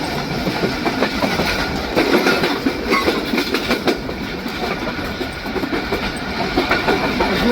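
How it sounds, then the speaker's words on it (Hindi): Khyber Mail passenger train rolling past Channi Road railway station under a 65 km/h caution, a steady loud rumble of wheels with rhythmic clickety-clack over rail joints, continuous and close for the whole stretch. "चन्नी गोड रेलवे स्टेशन पास कर रही है ट्रेन"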